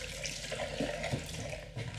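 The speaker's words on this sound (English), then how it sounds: "I'm just going to wash my hands" Tap water running over washing hands at a sink, a steady close splashing flow with small shifts as the hands move, no talking over it.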